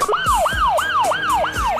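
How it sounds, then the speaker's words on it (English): A wailing ambulance siren rises and falls in quick repeating sweeps, about five cycles, loud and close with no voices over it. "Ambulances have to travel fast but safely, so paramedics are expert drivers too."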